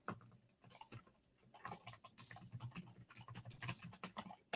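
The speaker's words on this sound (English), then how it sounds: "as you're typing that" Rapid, irregular tapping on a computer keyboard, close and fairly quiet, in uneven bursts with a few short pauses; no speech.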